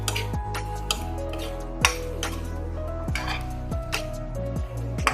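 Chopped onion, ridge gourd and tomato stirred in a wok, with a spatula scraping and clanking against the metal in irregular strokes over a soft, faint sizzle, close by and without talk.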